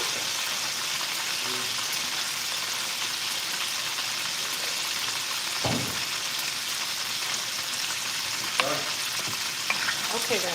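Cornish hens frying in a pan give a steady, dense sizzle throughout, broken by a few sharper crackles and spatters as the pieces are turned.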